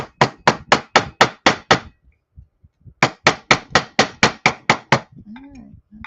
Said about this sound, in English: actually I want to hammer just a little bit more here